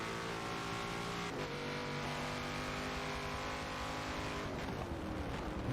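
Race cars in a racing game at the Nürburgring GP circuit, engines droning loud and continuous as one car brakes hard and locks up, pitch dropping abruptly with a brief tire squeal before revving on.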